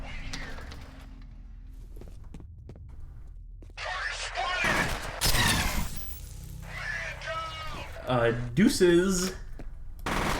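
Gunfire and shattering in the shooter game F.E.A.R., with sharp bursts and breaking crashes in the middle and later stretches, mixed with in-game voices and someone speaking.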